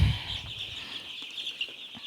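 Chickens clucking inside a brooding poultry house on a farm project in Tanga, with soft intermittent clucks and chirps over a steady high background hum, moderately near.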